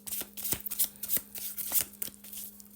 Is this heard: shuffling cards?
yes